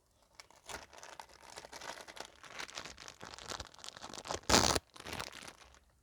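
A plastic surprise wrapper holding a capybara toy is torn and crinkled open, with irregular rustling and crackling throughout and one loud, sharp tearing burst near the end, no talking.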